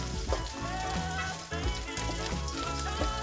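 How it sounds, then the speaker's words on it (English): Ginger and garlic frying in hot oil on moderate heat in a pan, a dense continuous sizzle with occasional stirring scrapes, close and steady with no voices. "I'm going to add some ginger and garlic first. Let them get a little brown,"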